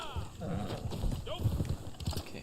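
Horse hooves clop in the Red Dead Online video game, a soft, steady rhythm set under someone talking and other faint game sounds.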